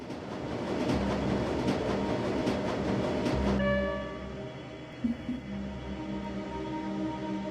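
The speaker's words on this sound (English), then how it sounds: "The train is speeding towards the Croix Bazaar station." Train speeding toward a station in the PC game Shadowrun: Dragonfall, a loud rumbling roll with rhythmic clatter that drops into a softer, steadier hum with a brief clunk midway.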